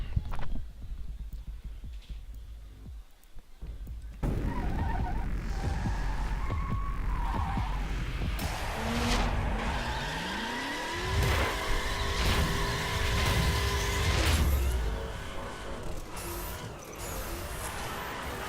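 Chevrolet Camaro in The Crew racing game, engine droning and revving loudly through gear changes with a rising pitch sweep, rumbling steadily throughout after a quieter opening few seconds.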